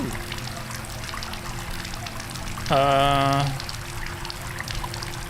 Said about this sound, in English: Do I leave the water running or what?